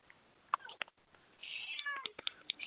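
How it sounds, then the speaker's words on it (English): A hungry cat meows loudly and insistently for food close by, sending out several calls in short bursts with a longer drawn-out meow in the middle and quiet gaps between them. "my cat just started yelling at me for food"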